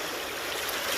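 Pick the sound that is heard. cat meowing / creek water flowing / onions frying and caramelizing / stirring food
creek water flowing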